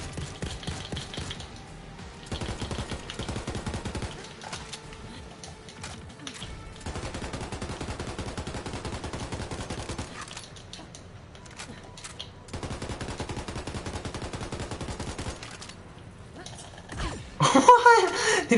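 Rapid automatic gunfire from an SMG and other weapons in the Borderlands 3 video game, sustained bursts in several long stretches with brief gaps, loud and close, ending in a sharper flurry of effects.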